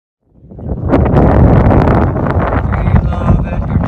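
Wind buffets a microphone aboard a sailboat in Edgartown Harbor, rising quickly from silence into loud, gusty rumbling and rustling that holds steady to the end.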